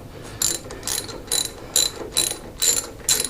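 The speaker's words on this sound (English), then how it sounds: "Put your ratchet on, put it in reverse." A ratchet wrench clicks in reverse on a short extension while servicing a John Deere D105 mower with a 17.5 Briggs and Stratton engine, sounding as six or seven quick, crisp bursts of ratcheting at a steady rhythm, close and clear.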